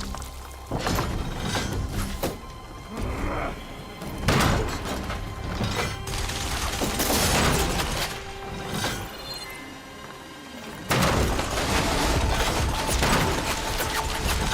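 Video game gunfire crackles in dense, loud bursts and volleys with thuds and impacts, sometimes dropping out briefly before resuming at full intensity.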